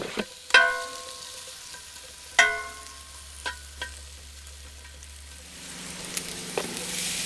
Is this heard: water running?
no